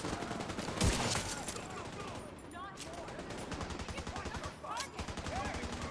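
Nemesis weapon firing in a video game shooter, rapid repeated gunfire bursts layered over dense game action noise, continuous and moderately loud throughout.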